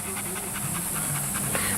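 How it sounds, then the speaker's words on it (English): Male German Shepherd panting rapidly in a steady rhythmic series of close, breathy huffs, with someone talking over it. "he is a tough male German Shepherd"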